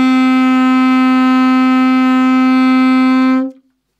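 A single sustained saxophone note A, played by a beginner with the first two fingers of the left hand, holds steady and loud for about three and a half seconds before stopping cleanly.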